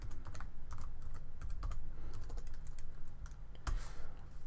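Someone types code on a computer keyboard, with rapid clicking keystrokes in quick irregular runs, close and clear over a low steady background hum.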